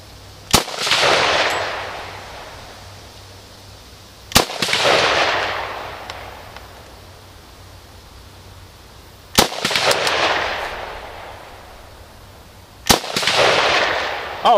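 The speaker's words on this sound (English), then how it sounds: "But for right now, I've got my Mini 14. Let's send some lead." Four sharp rifle shots from a Ruger Mini 14, spaced several seconds apart, each a loud crack followed by a long rolling echo outdoors, with no talking between them.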